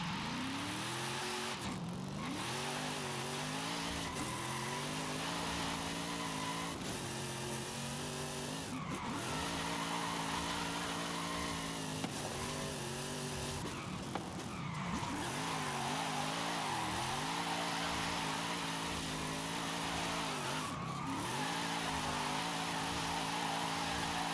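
Game car from Forza Horizon drifting, engine revs rising and falling in repeated sweeping harmonics with tire squeal and skid bursts, loud and continuous throughout.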